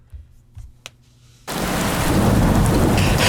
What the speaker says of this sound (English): there's a storm outside a little bit